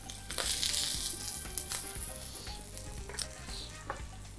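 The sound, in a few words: potatoes sautéing in a pan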